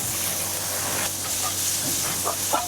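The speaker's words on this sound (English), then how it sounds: "Fry your pork belly." Pork belly frying in oil in a wok gives a steady, even sizzle and hiss close by, with a few faint clinks near the end and no talking.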